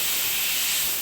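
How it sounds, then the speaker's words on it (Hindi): A pressure cooker on medium flame, cooking chicken bhuna masala, lets off a steady, loud, continuous hiss of escaping steam with no voices over it. "ढक्कन लगाकर मीडियम फ्लेम पे सिर्फ 2 सीटी लगाना"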